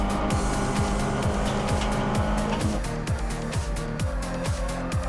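MG Trophy race cars at Silverstone's Woodcote corner roar past in a steady rapid stream, each engine note sweeping down in pitch as it goes by, loud and continuous with rasping exhaust.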